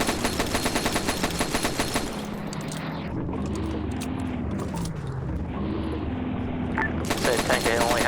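Rapid machine gun fire from a tankette's two guns in a World War-era battle game set in Ethiopia, loud sustained bursts at the start and again near the end, with a rumbling lull and voices between them.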